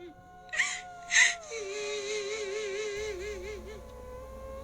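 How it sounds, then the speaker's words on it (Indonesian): Wailing, sobbing cries of a woman in the rain, rising in a couple of louder moaning bursts and then trailing into wavering whimpers, with rain hiss and a low rumble joining near the end. "Terdengar suara tangisan seorang perempuan dari arah belakang rumah."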